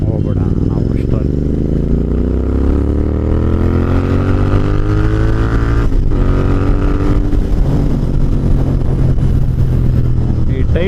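A car drives past close by, its engine note sweeping and shifting pitch as it passes, loud over steady road rumble, with people talking throughout.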